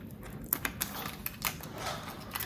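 Protective plastic film being peeled off a snow globe ornament gives soft, close crackles and irregular little ticks over a faint rustling bed, quiet and without speech.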